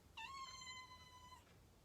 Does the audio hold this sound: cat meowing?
yes